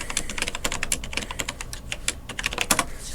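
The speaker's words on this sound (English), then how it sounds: "Let's go ahead and type in our password here." Someone types a password on a computer keyboard while logging into a Windows Server 2008 administrator account: rapid, close keystrokes clatter steadily for about three seconds with no talking.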